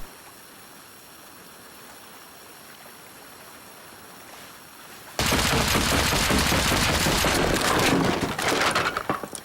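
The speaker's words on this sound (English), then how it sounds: "Shotgun trap." Shotgun trap in the survival game Rust goes off with a sudden loud blast partway through, followed by a dense, crackling roar that lingers for several seconds after a quiet, hissy stretch.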